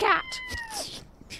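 A cat in the video game Later Daters gives a single clear, drawn-out meow that slides downward, preceded by a brief higher cry, close and distinct, with no talking over it.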